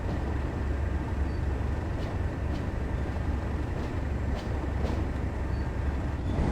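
A Class 37 diesel locomotive running in Train Sim World 6, heard as a steady, fairly quiet low drone with a faint rhythmic clatter throughout and no voices.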